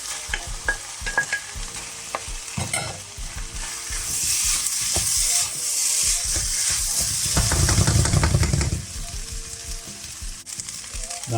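Eggs fry in a pan for Spam fried rice, giving a continuous crackling sizzle. Intermittent scrapes and taps of stirring sit over it, and the frying swells louder near the end.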